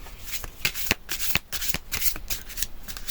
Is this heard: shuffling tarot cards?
yes